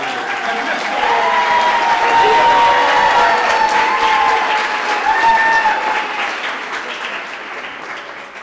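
Warm, sustained applause from an audience welcoming a presenter onstage at a PechaKucha San Antonio evening, swelling after the first second with a few cheering voices mixed in before slowly tapering off.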